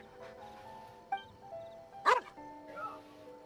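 A dog in the video game Genshin Impact barks once sharply amid soft game music and tones, with a few faint yips and whimpers around it, fairly quiet overall.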